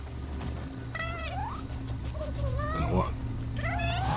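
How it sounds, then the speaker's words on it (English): Cat in the video game Nioh 2 gives several drawn-out, rising meows, close and clear over a low ambient hum, with someone briefly talking between them. "Some weird cat. Now it's following me."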